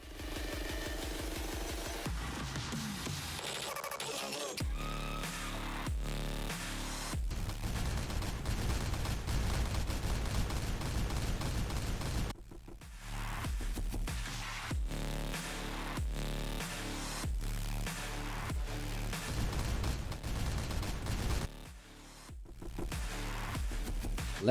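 Gunfire sound effects for a tabletop Warhammer 40k battle between Dark Angels and Harlequins: repeated volleys of shots and bursts that play for most of the stretch, with a few short dips, and no talking.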